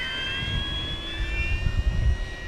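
An FMS 1700mm Corsair V3 RC plane with a new propeller on 6s or 8s power, its electric motor whining up steadily in rising tones over wind rumble as it powers up for takeoff, close and continuous.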